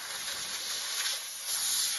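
A steam cleaner on fitness equipment gives a steady, close, fairly loud hiss of steam that swells slightly toward the end, with no talking.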